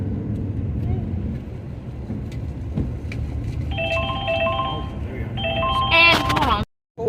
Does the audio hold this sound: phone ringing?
yes